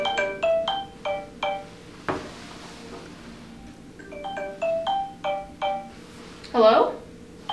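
A cell phone ringtone plays as repeated bursts of bright electronic tones in two runs, loud and close, with a short clatter between them and a voice at the end.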